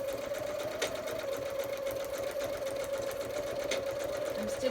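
A sewing machine stitches with brown quilting thread, a continuous close whirring drone with a rapid needle rhythm throughout, steady and fairly loud, with a couple of faint clicks.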